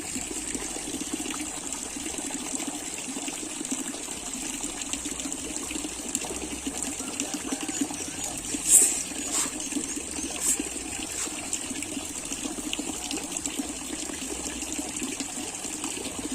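Water pouring steadily into a leaking fish pond on a fish farm, a constant gushing splash close by that runs unbroken, with a couple of brief louder clinks partway through.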